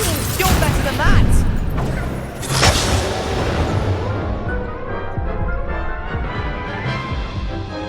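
Confringo and Incendio spell blasts in Hogwarts Legacy, loud booming bursts and crackling impacts in quick succession, fading into a rumbling decay, with a voice talking over the fight.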